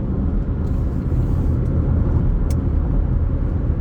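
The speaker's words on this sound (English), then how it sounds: "That's an electric car, the C-Max." A Ford C-Max electric car on the road, a loud continuous low rumble of tyres and road noise that holds steady throughout, with no voices.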